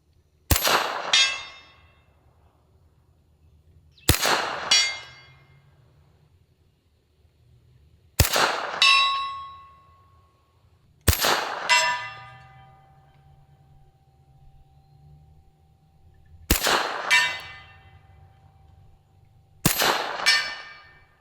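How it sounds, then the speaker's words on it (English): Six separate sharp metallic clangs of .45 ACP Tommy gun bullets striking a steel target, spaced several seconds apart, each ringing out and decaying slowly, with faint distant reports before some impacts. "You can literally hear like a second in between the shot and when it impacts the steel."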